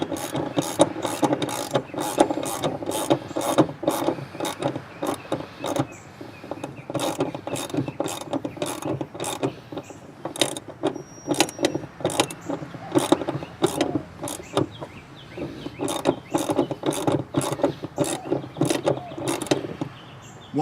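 A ratchet wrench tightens bolts while a rear seat recline kit is installed in a 2015 Jeep Wrangler Unlimited JK, giving close, loud bursts of rapid clicking strokes with brief pauses between them.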